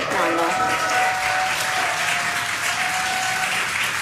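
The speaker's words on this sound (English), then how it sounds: "You can hear the crowd here." A crowd applauds continuously at a distance, a steady wash of clapping with a faint voice speaking over it.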